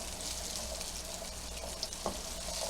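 Shrimp and aromatics for a coconut curry frying in oil, a steady close sizzle with a few brief stirring clicks and pops, no voices.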